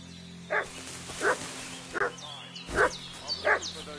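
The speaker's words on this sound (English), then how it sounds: "What's that dog making such a fuss about?" A dog in the medieval game Kingdom Come: Deliverance 2 barks five times at an unhurried, irregular pace, moderately close over a faint ambient background with birdsong.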